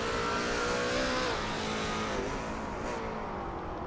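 A Lola T70 MkII Spyder race car engine roars at high revs around Brands Hatch GP in a racing game, a loud sustained drone with slight pitch shifts as the car is pushed hard.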